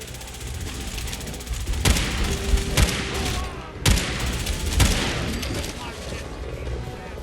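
Gunfire from a game weapon aimed at tough angler creatures in Fallout 4, with several sharp shots spaced irregularly over a steady busy background and someone talking throughout.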